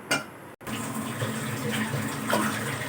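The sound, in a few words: pouring glasses of water into soaked rice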